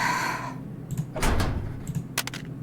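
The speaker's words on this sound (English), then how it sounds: "The door of the detention facility opens and a phone slips through" A detention facility door opening in the video game Nikke, a muffled mechanical slide with a low rumble and a couple of sharper clunks, close and fairly loud over a brief tonal hum at the start.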